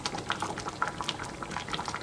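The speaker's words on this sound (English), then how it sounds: "it is boiling away quite nicely" Beef stew bubbles steadily in a pot on the stove, a dense, continuous crackle of small popping bubbles with no talking over it.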